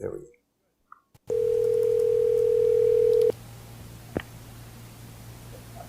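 A steady telephone dial tone hums for about two seconds while a call is placed, loud and close, after a few faint clicks and followed by a low line hum with a single brief tick.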